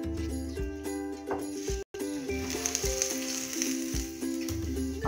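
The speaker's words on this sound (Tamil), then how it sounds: "இப்போ அப்பளம் பொரிச்சிட்டு உங்கள்கிட்ட காமிக்கிறேன் பாருங்க." Appalam (papadum) frying in hot oil on a stove, a steady crackling sizzle running throughout with a brief gap, set against faint background music.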